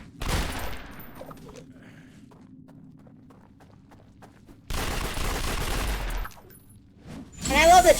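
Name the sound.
rapid gunfire from Shoot Wildly power, City of Heroes video game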